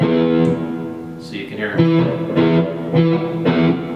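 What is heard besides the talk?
electric guitar open low E string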